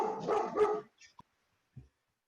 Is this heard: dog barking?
yes